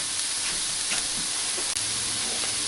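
Food frying in butter in a skillet gives a steady, close sizzling hiss that holds constant throughout with a faint clink partway, no voices.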